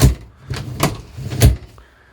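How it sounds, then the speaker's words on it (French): Sliding shower doors in a camper van are pushed open and shut several times. The result is a run of four or five dull knocks and rolling thuds at an uneven rhythm, heard close up. "les portes ça coulisse super bien"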